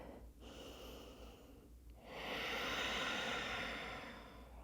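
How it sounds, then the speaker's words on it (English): Deep yoga breath during a flowing class: a soft breathy intake, then a fuller, louder exhale that swells and fades over a couple of seconds, close and alone with no talking. "One more big breath here."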